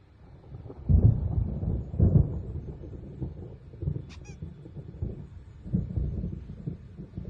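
Thunder from an approaching storm rolls in low, rumbling swells, several deep booms rising and fading at a distance, with a brief faint high chirp in the middle.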